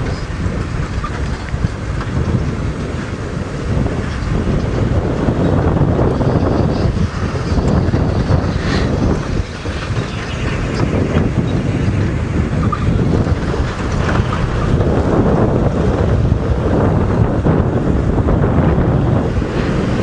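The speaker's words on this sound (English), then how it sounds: "The wind has picked up a bit." Strong wind buffeting the microphone on an early-morning sunrise safari drive, a loud, continuous roaring rumble for the whole stretch with no voices.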